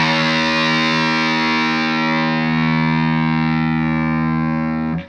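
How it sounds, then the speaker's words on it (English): A distorted electric guitar rings out its low E string, tuned slightly below standard, as one sustained, loud, buzzing note. It holds steady for about five seconds and then is cut off abruptly. "So my low E string now sounds like this."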